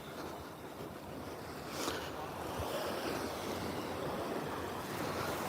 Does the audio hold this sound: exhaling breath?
no